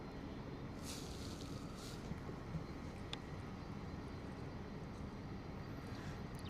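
A jet on landing approach at London Luton Airport on a wet, windy day gives a steady, fairly distant engine roar mixed with wind, with no speech.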